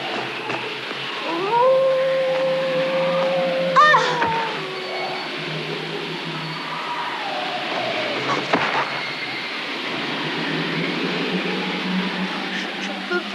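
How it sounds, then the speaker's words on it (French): A wolf howls in a forest, a long rising and falling tonal cry near the start followed by a shorter wavering call, over a dull rumbling background. "oh, c'est un loup."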